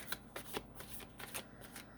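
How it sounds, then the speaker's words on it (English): Tarot cards are shuffled by hand in a quick series of riffling, papery flutters, close and fairly soft, with no talk over them. "I've got a couple cards coming out already, and we're going to just shuffle up"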